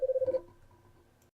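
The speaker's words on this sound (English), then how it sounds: "I got a phone call interruption there" A telephone keypad sends a quick run of six evenly spaced dial tones within under half a second, followed by a faint line hum that trails off, with no talking.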